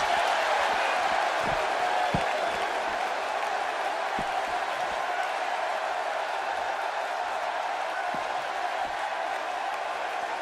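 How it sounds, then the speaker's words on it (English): A large arena crowd in the video game WWE 2K16 roars continuously with cheering and applause, a dense steady wall of noise with occasional low thumps beneath. "by the sound of this crowd, I think they're getting what they wanted"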